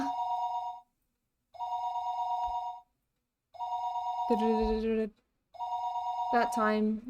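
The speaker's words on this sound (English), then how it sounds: "Her phone would be ringing constantly though" A telephone in the video game Higurashi: When They Cry rings in four steady tonal bursts separated by short silences, with a voice speaking briefly over the last two rings.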